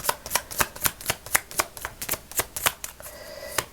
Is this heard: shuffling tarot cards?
yes